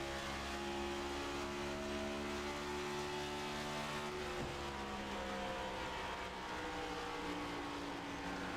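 Several race cars circle the track at Darlington in a next-gen stock car sim race, engines droning steadily with layered whining harmonics that shift in pitch as the pack runs close together, continuous and loud.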